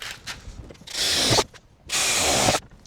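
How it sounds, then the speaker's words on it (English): A power drill bores through a camper van wall for a window install, two loud sustained bursts of grinding drilling separated by a short pause, close up. "We have our 2 holes here that we just drilled from the inside."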